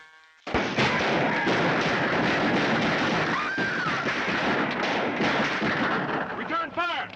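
A shootout in the 1954 film Suddenly erupts abruptly into a dense, sustained barrage of gunfire and heavy thuds, loud and continuous for several seconds before thinning out into scattered shots, with voices shouting over it.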